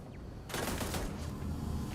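A turret in Starfield opens fire, a sudden burst of rapid gunfire that starts after a quiet moment and keeps rattling to the end.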